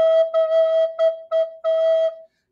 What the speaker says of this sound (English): This is the note E, or on soprano recorder would be the note B.